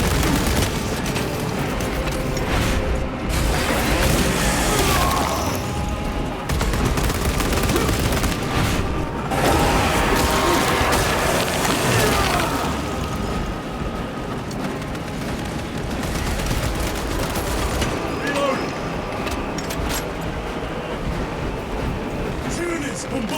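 Tyranid bombardment and gunfire in a Warhammer 40k battle, dense continuous blasts and rapid shots layered into a loud, unbroken din with bursts of heavier impacts throughout.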